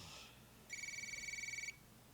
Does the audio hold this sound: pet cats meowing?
no